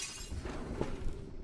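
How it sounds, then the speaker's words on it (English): Glass shatters in a survival video game, one brief bright crash with a short tinkling tail, heard at moderate level against a faint background. "I heard the glass break."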